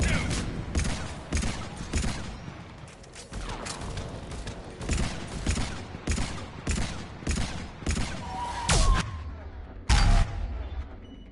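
Shotgun blasts ring out in the Mass Effect 3 video game, loud sharp reports fired in rapid, uneven bursts amid a busy firefight, with voices faintly beneath the gunfire.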